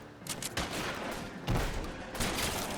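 Rapid bursts of Tommy gun fire in the video game LA Noire, dense crackling volleys that come in short runs with brief gaps, loud and close, with no speech.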